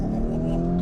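A Lamborghini Urus SUV accelerating, heard from inside the cabin as a steady, loud low engine drone with rising tonal harmonics, continuous for under a second.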